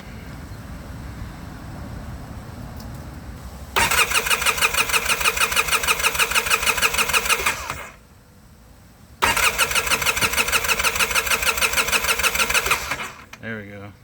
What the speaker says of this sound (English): So I want to crank it and see if the fuel pump works.